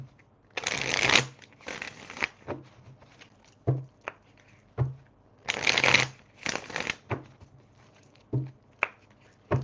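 Tarot cards are shuffled close up in two pairs of crisp riffling bursts, with lighter card taps and slaps scattered between them and no talking.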